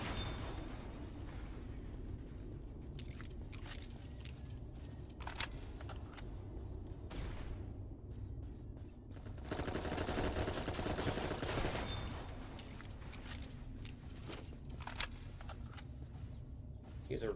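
Video game gunfire: a string of sharp shots spread across the clip, swelling into a dense, sustained volley midway before scattered single shots return, all over a steady low rumble.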